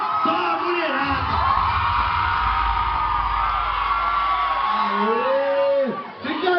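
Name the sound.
women in the crowd shouting and cheering for Borel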